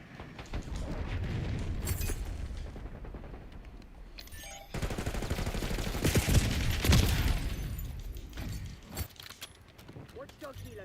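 Heavy automatic fire and explosive thuds from an Archangel scorestreak in Call of Duty Black Ops 6 rumble in dense waves across the whole span, and a voice speaks during the barrage.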